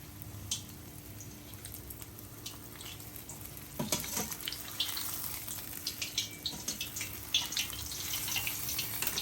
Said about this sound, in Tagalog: Deep fried na po natin.